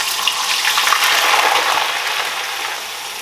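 Homemade potato chips crackle in hot oil as a fresh batch of potato slices goes in, a loud dense sizzle that swells and then eases slightly, with no voices.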